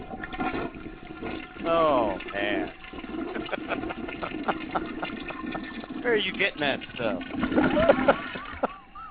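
A long toilet flush rushes and gurgles at a steady moderate level for several seconds, with people chatting over it.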